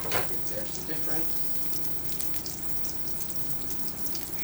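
Beyond Meat and Impossible burger patties fry in a pan, giving a steady low crackling sizzle with scattered pops that continues without a break and stays fairly quiet.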